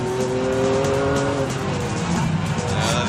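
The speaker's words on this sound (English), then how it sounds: "he goes, massive wheel spin, smearing the track with rubber from those huge, huge tyres." The Stig's car spins its wheels on the Top Gear test track during a power lap, huge tyres squealing in sustained tones over a loud, steady engine roar, close and continuous.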